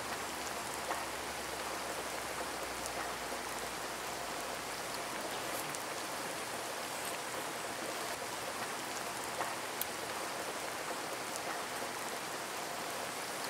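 Heavy rain pours steadily at night over a banana plantation campsite, a dense, constant hiss of drops with occasional louder patters close by, with no talking.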